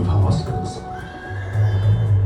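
A horse neighs in a long, wavering whinny over a low rumbling background, part of a narrated depiction of horses drawing a chariot.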